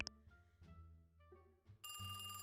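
A telephone rings in the Golden Idol video game, its bright electronic ring cutting in near the end after soft musical tones, with no talk.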